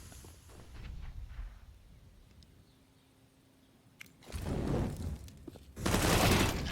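UMP submachine gun fire in Counter-Strike on the Inferno map at close range: two loud, dense bursts follow a quieter stretch, the second longer and harsher.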